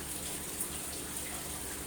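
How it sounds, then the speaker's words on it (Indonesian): Aquarium aerator and filter in a home fish tank bubble and gurgle continuously, a dense, even hiss of rising bubbles and moving water, steady and close, with no talking. "menimbulkan gelembung-gelembung ini untuk oksigen ikan, agar ikan ini bisa bernapas"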